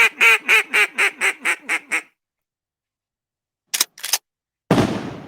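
A duck-quack sound effect fires from a soundboard as a loud, rapid run of about eight quacks. After a pause come two short bursts, then a sharp, blast-like crack.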